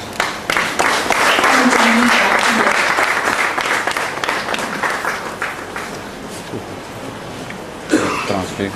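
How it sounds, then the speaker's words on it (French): Audience applause at a book launch event bursts out loud and sustained, thinning gradually over several seconds with scattered claps and a brief cough near the end. "Sous votre ovation, s'il vous plaît."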